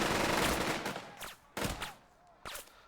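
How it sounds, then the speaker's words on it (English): A squad opens fire in the World War II tactics game Burden of Command: a dense burst of rifle and machine-gun shots, then two more separate loud reports with echoing tails. "Lieutenant Wilson's other squad just takes shots here"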